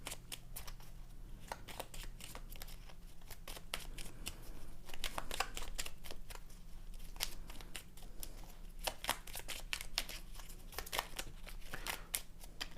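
Oracle cards shuffled by hand for a reading, a run of soft, rapid papery riffles and flicks in irregular bursts, fairly close and quiet against a faint background hum.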